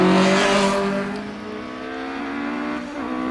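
A Mallock race car climbs the Loton Park hillclimb course at a Midland Championship event, its engine screaming loud and close at first, then fading and steadying into a high, sustained whine as it pulls away.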